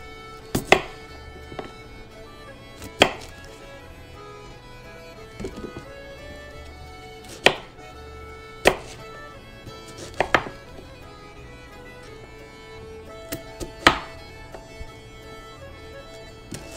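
A knife slices hard-boiled eggs on a cutting board during pickled-egg prep, giving sharp, irregular chops with pauses between them, close and fairly loud against a quiet room.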